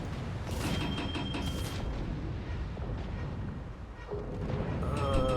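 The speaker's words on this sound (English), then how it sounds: "Yep, those are the depth charges" Depth charges exploding in a naval combat video game featuring the destroyer Groningen, a cluster of heavy booms and rumbling blasts over ongoing game noise, fairly loud and dense.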